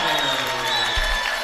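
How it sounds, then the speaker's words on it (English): Raider fans cheer at a high school basketball game in a gym, a broad roar of crowd noise and whoops filling the space with a low thump partway through. "So that got the Raider fans up a little bit more and cheering."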